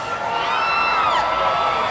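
A crowd cheers and whoops at the Full Sail University Hall of Fame event, a sustained, loud wash of voices with high-pitched shouts rising over it.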